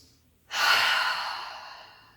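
One deep breath, a long, airy exhale that swells quickly and fades slowly, close and alone, taken during a yoga flow session.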